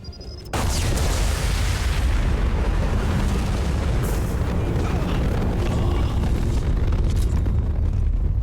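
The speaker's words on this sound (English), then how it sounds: "It's going to explode." A large explosion in Mass Effect 2 erupts suddenly after a short quiet moment, then a loud, sustained rumbling roar with crackling debris that continues to the end.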